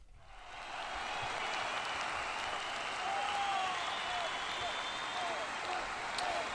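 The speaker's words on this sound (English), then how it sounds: "Thanks for all the clapping." An audience claps steadily in applause that begins after a brief quiet moment and holds at an even, moderately loud level to the end, a dense wash of many hands with no talk.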